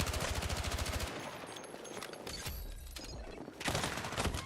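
Gunfire in the video game Battlefield 6, starting with a fast automatic burst and then ragged, overlapping shots and impacts. A heavy volley returns near the end, loud and close.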